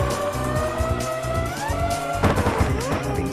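Toy RC car whining and skidding through a turn in the PS2 racing game RC Revenge Pro, steady engine drone over game music with a busier burst of tyre and collision noise near the end.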